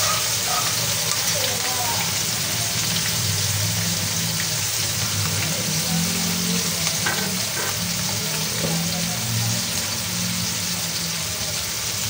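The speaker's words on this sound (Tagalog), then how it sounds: "Antayin lang po natin na golden brown yung ating chicken." Chicken pieces fry in a pan over medium heat, a loud, steady crackling sizzle with occasional stirring sounds, while a person talks quietly in between.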